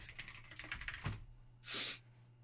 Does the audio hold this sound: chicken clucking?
no